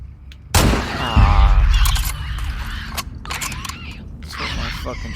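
Gunshots in The Last of Us Part 2: a loud close blast, followed by a series of sharp cracks and bursts over several seconds. A voice talks over part of the shooting.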